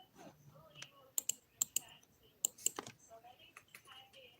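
Bursts of keystrokes tap on a computer keyboard, several crisp clicks clustered in quick uneven runs, close and fairly quiet, with soft talking woven between them.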